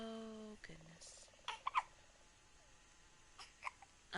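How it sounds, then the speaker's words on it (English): A baby gives several big hiccups, short sharp catches scattered across a few seconds, faint, along with small fussing noises and a brief bit of voice. "Them's big hiccups."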